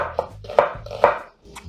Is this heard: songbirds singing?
no